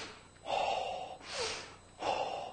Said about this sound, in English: So we get a thing I call a ha breath